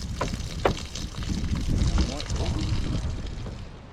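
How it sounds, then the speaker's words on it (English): Clean water pours into an IBC tank during a top-up, a steady rushing splash with a few sharp sloshes, close and fairly loud throughout. "we're just topping it up with nice clean water"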